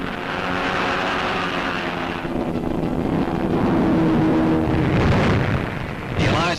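Roar of a massed fleet of WWII planes and gliders passing overhead during the Normandy airborne invasion, a steady loud drone that swells and rumbles for several seconds with no talking.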